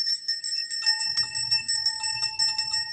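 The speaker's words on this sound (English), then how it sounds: "So I'll start with the bell." A small golden hand bell rings steadily, with bright, shimmering repeated strikes close by and a faint low murmur beneath.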